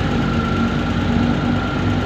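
Overhauled engine idling in a workshop in Kabankalan, running steadily and loud with a continuous low hum and faint knocking, no voices.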